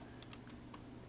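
A few quick computer keyboard keystrokes for a copy shortcut click softly in close succession, faint and brief against quiet room noise.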